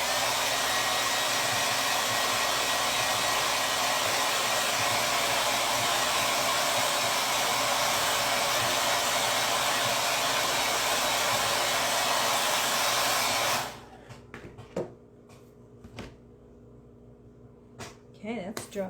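A heat tool drying craft paint runs as a loud, steady whir for about thirteen seconds, then cuts off, leaving quiet handling sounds and light clicks.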